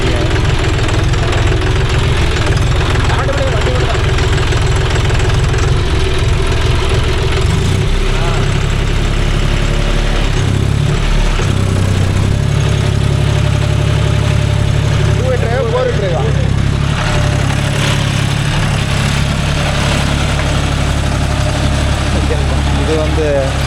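A John Deere 5045D tractor with a 9-tine cultivator works a coconut farm, its engine running steadily and loud throughout, with people talking over it.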